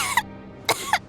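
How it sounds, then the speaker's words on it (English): A character in Genshin Impact coughs three times, sharp and close, two quick hacks followed by a third after a brief pause, over a faint background hum. "How long have you had that cough"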